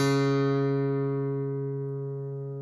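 One guitar string, tuned down from D to D flat, plucked and left to ring, its steady tone decaying gradually with nothing else audible.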